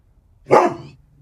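A single short dog bark rings out close by outdoors in a quiet garden, sharp and loud, with silence before and after.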